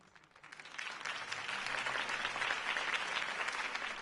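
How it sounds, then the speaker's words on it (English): Crowd applause at a campaign rally in the Batman: The Telltale Series video game swells up from quiet into a sustained, dense clapping roar that holds steady to the end. "If only Mr. Wayne, my campaign's largest backer, could have heard that applause"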